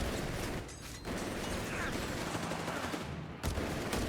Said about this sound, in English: That is a lot of MG42 fire here.